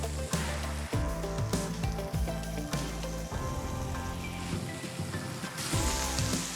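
Norwegian meatballs (kjøttkaker) sizzling steadily in a hot frying pan that is hotter on one side, a continuous crackling fry with a few louder pops and clunks.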